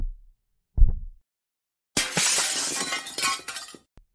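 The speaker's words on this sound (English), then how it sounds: "3 decisive yet subtle whacks in the glass gave way" Basement window glass breaking in a tense audiobook scene: a dull thud, then a loud burst of shattering glass with scattered tinkling fragments trailing off, heard alone and close.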